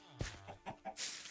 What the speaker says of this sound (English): Now we're gonna have to listen to chickens just kind of sit there for the rest of our days.